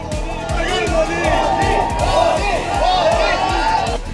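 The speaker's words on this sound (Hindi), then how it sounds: "लोगों की भारी भीड़ थी और भीड़ से मोदी मोदी के नारे गूंज रहे थे" A dense crowd gathered along a heritage corridor chants a rhythmic political slogan in unison, repeated shouted syllables rising and falling steadily over general crowd roar, loud and close throughout.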